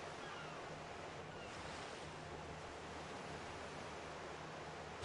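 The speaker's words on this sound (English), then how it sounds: "Jeez, I never realized how big the ocean is." Ocean waves in the pirate video game Pirate Yakuza, a steady, full wash of surf and wind rolling on without pause, with no voices.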